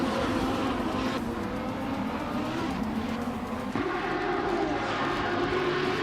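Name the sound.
Lamborghini Huracan Super Trofeo racing engine, video game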